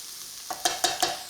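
Onions, celery and garlic hit a hot pan for an Irish ham, bean and vegetable soup, giving a short burst of sizzling with a few distinct stirring scrapes. The sound is close and moderately loud, and no one speaks.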